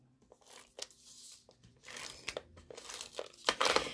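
Crinkling and rustling as a piece of Whisper White cardstock is handled and pressed into place, with close, irregular paper crackles that grow busier toward the end.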